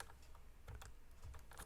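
Keys clatter steadily on a computer keyboard as a spreadsheet formula is typed, quick soft clicks in irregular bursts, close and quiet against faint background hiss.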